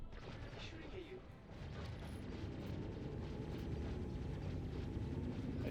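Spaceship weapons firing during a dogfight in the space combat game Star Citizen, a dense, continuous rumbling roar of blasts and engine noise with a voice faintly underneath.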